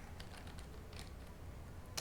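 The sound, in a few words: typing a command on a computer keyboard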